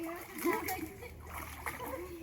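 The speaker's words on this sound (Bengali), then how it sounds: "দিদির ছেলে আর মেয়ে দুজন সুন্দর সাঁতার কাটতে পারে।" Children swimming in a village pond splash and slap the water in quick irregular bursts, fairly close, while kids' voices chatter over the splashing.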